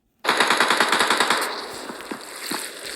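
A UMP submachine gun in PUBG Mobile fires a rapid, loud burst of about a dozen shots. Scattered single reports and faint echoes follow.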